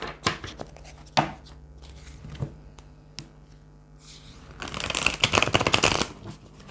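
Tarot cards shuffled by hand, a run of soft riffling and flicking strokes with a few sharper slaps, ending in a longer, dense burst of rapid card riffling, close and alone with no talking.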